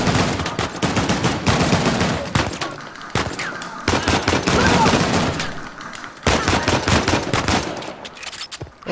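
Heavy gunfire erupts during an ambush in the video game Uncharted: The Lost Legacy, with dense rapid bursts and automatic fire broken by brief pauses, loud and close throughout.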